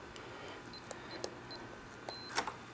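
Soft electronic beeps from a Schlage LiNK door lock keypad as a code is entered, several short high tones spaced irregularly, faint and close in a quiet room.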